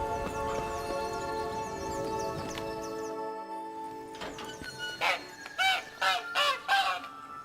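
A caged hen clucks in The Witcher 3: Blood and Wine, with several short, loud honking clucks in a rhythmic burst after a stretch of steady background sound.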